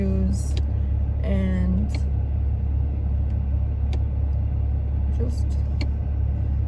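A car drives along residential streets with a steady low engine and road rumble throughout, while a voice talks over it in short bursts and a few brief clicks and squeaks pop in.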